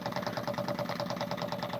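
A small gravity-fed engine fired by a burner made from a post-World War II German camp stove runs steadily nearby, with a fast, even chugging pulse and a faint tonal hum.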